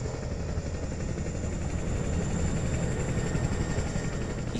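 A Chinook helicopter lifting off during the last days of the American evacuation of Vietnam: a continuous loud, close rotor drone with heavy engine rumble, steady throughout and unbroken by voices.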